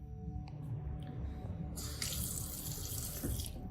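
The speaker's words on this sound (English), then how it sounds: "So if I turn this faucet on, what's my assumption?" A kitchen faucet turns on and water streams steadily into the sink, a bright continuous rush that starts partway through after a few faint clicks and drips, close and moderately quiet with no voices.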